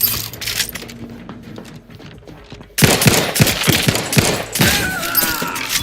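Rapid automatic gunfire in the video game The Outer Worlds 2, loud bursts of sharp overlapping shots with clinking shell casings, starting after a quieter stretch of distant firing and continuing densely.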